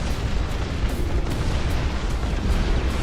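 Artillery fire in the real-time strategy game Dust Front RTS produces a dense, steady barrage of booming explosions that blend into a continuous loud roar, with no speech.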